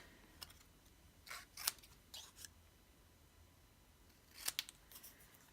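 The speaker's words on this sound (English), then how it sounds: "cut each of the words out" Scissors snipping paper letters for a Halloween lantern craft: a few crisp, close cuts come in short clusters with quiet pauses between, and no voices.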